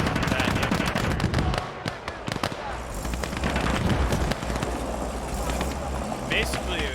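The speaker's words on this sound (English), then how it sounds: "if I hit suppressing fire here, I can suppress that infantry" Suppressing gunfire rattles in the video game Call to Arms during an Eastern Front battle, with rapid machine-gun bursts and sharp shots layered over explosions and rumbling vehicles while someone talks throughout.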